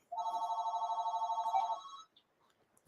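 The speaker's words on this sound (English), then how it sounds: "They call me on the phone." A telephone rings in one sustained, pulsing electronic trill that lasts about two seconds and then stops. A few faint clicks follow in the quiet afterward.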